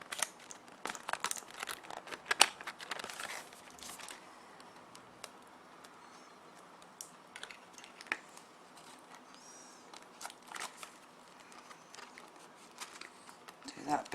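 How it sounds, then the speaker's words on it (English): Tape being pulled and pressed to hold a small light in place inside a card shadow box, with crinkling, tearing and ticking handling noises scattered across the stretch, close and moderately loud. "And then you can just tape that one in place."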